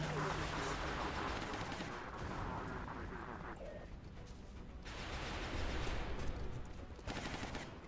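Dense, continuous gunfire in the turn-based strategy game XCOM Long War, a sustained crackling barrage of overlapping shots that swells and dips over several seconds, loud throughout.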